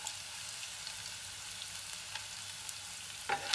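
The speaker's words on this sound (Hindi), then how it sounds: "ये हरी मिर्च, इनको डाल के थोड़ी देर सौटे कर लेते हैं" Green chillies and cashews sauté in hot ghee, a steady bright sizzle that runs unbroken throughout, with a brief stir-scrape near the end.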